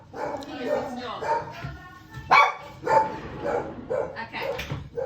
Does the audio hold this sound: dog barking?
yes